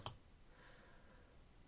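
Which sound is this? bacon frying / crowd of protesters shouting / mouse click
mouse click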